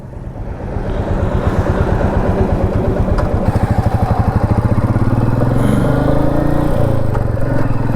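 A motorcycle engine running steadily as the bike is ridden on a long highway trip, a loud close rumbling throb that picks up in pace and pitch, wind noise across the top, no talking.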